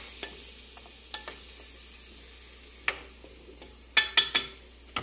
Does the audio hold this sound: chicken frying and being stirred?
yes